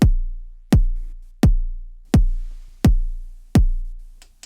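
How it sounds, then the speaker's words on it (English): Deep synthesized kick drum from a modular setup, triggered by a Teletype script and clock, thumps six times at a steady, even pace, each hit booming and decaying before the next. "And then we hear the kick drum sound."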